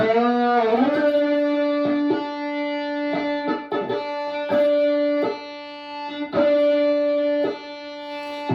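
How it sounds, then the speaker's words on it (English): Overdriven electric guitar sustains a high, piercing natural-harmonic squeal from tapping the neck at the 14th fret, with repeated rhythmic taps chopping through it, loud and up close for several seconds. "I'm going to tap the neck at the 14th to make the screeching sound"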